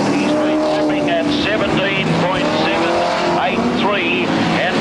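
1979 super sedans race in a 150-lap Grand Prix, engines roaring continuously with shifting pitch sweeps as cars pass, loud throughout with a race commentator talking over them.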